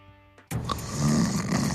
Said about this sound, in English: One snores, and the other can't sleep.